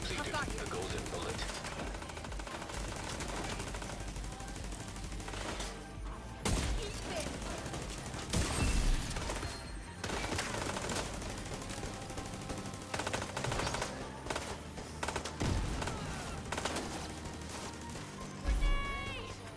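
Bursts of automatic gunfire and single shots from The Division 2, in sharp, loud clusters spread across the whole stretch over a dense bed of combat noise, with a few heavier crashing hits.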